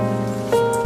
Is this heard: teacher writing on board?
no